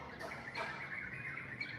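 Birds chirp faintly in a quiet Cambodian neighborhood, a few soft tweets and calls scattered over low outdoor background hiss.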